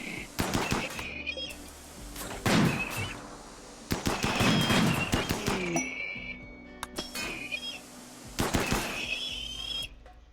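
Bursts of gunfire from the colony sim RimWorld, several separate volleys of sharp rapid shots spread across the stretch, loud and close, with metallic clinks between them.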